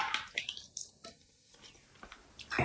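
Werther's Original caramel apple filled hard candy crunched up close, giving a few sharp, crisp cracks and wet mouth clicks spread across a short quiet stretch, with soft whispery breath between bites.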